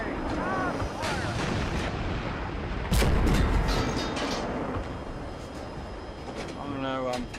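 Heavy gunfire and cannon booms in a multiplayer war video game, repeated sharp shots and one louder blast over constant battle rumble, with players shouting orders over it.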